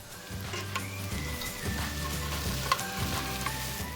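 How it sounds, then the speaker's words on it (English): Carrots, celery and garlic sauté in a pot for a beef pot roast, giving a steady, moderately loud sizzle with occasional stirring clinks, and no voices. "Then I'm adding the carrots and the celery and let it saute about 5 additional minutes."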